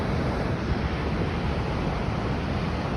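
Tawang river in Arunachal flowing beneath an old iron bridge, a steady, loud broadband rush of water with wind-like texture, continuous and unbroken throughout.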